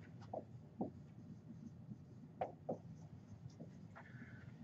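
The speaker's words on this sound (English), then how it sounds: "Let me write that down." Chalk or a marker scratches on a board in short, faint strokes and taps, spaced irregularly in a quiet lecture room with no talking.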